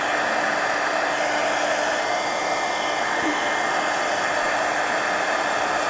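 A hair dryer blows steadily and loudly while drying a painted mixed media book page, a constant close whoosh with no break.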